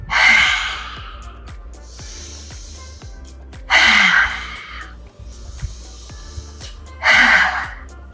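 Three forceful, breathy exhales with the tongue out in a lioness yoga pose, each a loud rushing huff lasting about a second, evenly spaced a few seconds apart, close to the listener.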